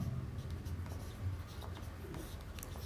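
An equation being written by hand, likely pen on paper, with a soft scratchy scribbling in short strokes and pauses, quiet and close, over low background hum.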